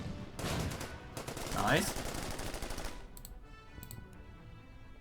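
Rapid bursts of gunfire from a tank attack in the Order of Battle war game rattle for about three seconds, loud and dense, then trail off into scattered distant shots, with a brief spoken remark over them.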